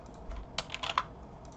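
A file name typed on a computer keyboard, a quick cluster of light, close key clicks in an uneven rhythm lasting about half a second in a quiet room.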